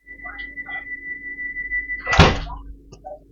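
Sliding doors on a Vande Bharat Express train shut with a steady electronic warning tone, then a sharp thud of the panels meeting, close by, among faint voices and carriage hum.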